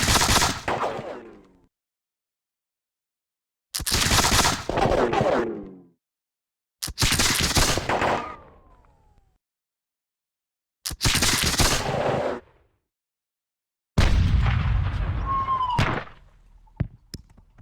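Cannon and gunfire from the Battle of Bunker Hill in the strategy game Campaign 1776, five loud volleys booming out with silent gaps between them, the last one followed by a ringing tone and sharp cracks.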